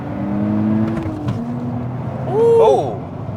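A 2023 Nissan Z accelerating hard with flat-foot shifts, engine drone and harmonics steady, then a brief break and a sharp rising, whining rev as the next gear catches; heard from inside the car, fairly loud.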